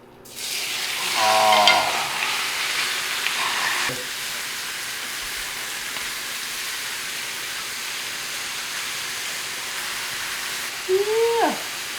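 Chub sizzles in ghee butter in a hot pan, a loud, steady frying hiss that flares near the start and carries on throughout, with a brief spoken exclamation.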